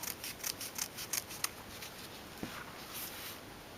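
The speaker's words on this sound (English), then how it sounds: "So now I'm actually going to cut those sides." Scissors snip through folded paper for a handmade bow wedding invitation, a quick run of crisp, rhythmic cuts up close followed by a lone snip, all fairly quiet; no talking.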